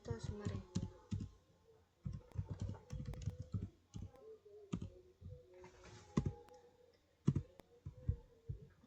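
Bursts of clicky typing on a computer keyboard while entering Cisco router configuration commands, with rapid key clusters separated by short pauses and occasional firmer keystrokes like an Enter press, close and moderately loud.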